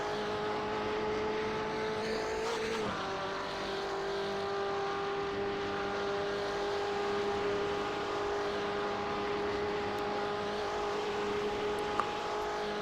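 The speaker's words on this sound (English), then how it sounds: "Trying to hang on to the back of Jaron Haslam there as they drag race down this long stretch here." GTE and GT3 race cars drag race at Le Mans in iRacing, a loud constant engine whine holding a steady pitch with one brief shift early on, close and unbroken, no voices.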